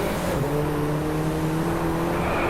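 Racing car engines in the Driveclub video game drone loudly and continuously, a steady rising pitch from cars running close together, with no pauses and no talking.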